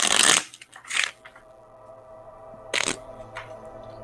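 A deck of playing cards being shuffled up close, with a few crisp riffling bursts separated by quiet pauses, no voices.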